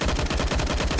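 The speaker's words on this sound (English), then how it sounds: "Kato firing through the smoke, though, doing plenty of work." Rapid gunfire from an esports video game match, with dense rhythmic bursts of shots repeating steadily and loudly through the whole short moment, with no voices over it.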